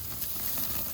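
Steak sears on a charcoal grill with a steady, soft sizzle and faint crackle, low in level and unbroken through the short stretch, with no voices.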